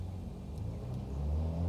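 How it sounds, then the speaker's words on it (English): Aircraft engines spooling up on the ground in Microsoft Flight Simulator 2020, a low steady rumble that slowly swells louder over a couple of seconds with the parking brake still set. "Get our engines really spun up here before we release our parking brake"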